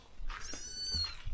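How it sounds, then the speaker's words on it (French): A small cat meows in a home, its voice rising and falling in a short close cry, with faint room noise and breathy murmurs behind it. "Oh, le petit chat"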